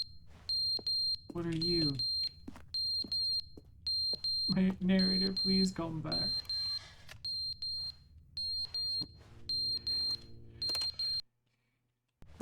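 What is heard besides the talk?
alarm sounding in the video game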